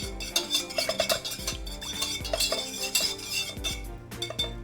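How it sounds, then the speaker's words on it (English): Butter and cream are stirred together in a metal bowl, with steady scraping and clinking of a utensil against the bowl in quick irregular strokes, close and moderately quiet, with no talking. "to mix that butter and cream together"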